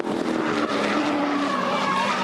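A V8 Supercar racing car loses control at speed, tyres squealing as the driver stays on the throttle, a loud continuous blend of engine roar and tyre scrub lasting a couple of seconds.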